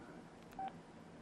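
A Pantech C740 Matrix QWERTY phone keyboard gives a single short, faint key beep against quiet background hiss.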